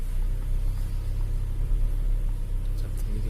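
Toyota Innova engine during a gear shift, a steady low rumble idling close by without clear revving.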